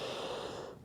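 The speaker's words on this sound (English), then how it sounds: "take a big breath in" A long, deep breath is drawn in through the nose at close range during a yoga session, a steady airy rush that fades toward the end.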